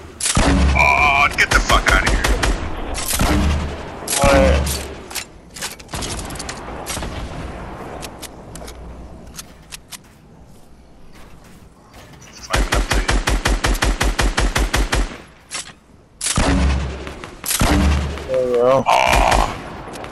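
Rapid automatic gunfire bursts from a Fortnite squads match, loud and repeated in several long volleys separated by short lulls, with explosions mixed in.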